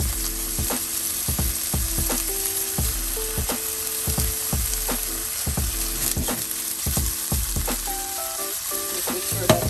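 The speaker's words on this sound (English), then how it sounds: "Making sure that the mushrooms does not stick to the bottom of the pan" Oyster mushrooms stir-fry in a pan with a steady, loud sizzle, punctuated by a regular rhythm of utensil scrapes and clacks against the pan as they are stirred.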